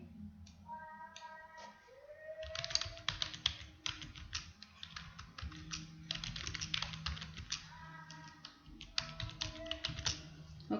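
Someone types on a computer keyboard while writing text in MS Word, a close, fast rattle of key taps in bursts separated by short pauses.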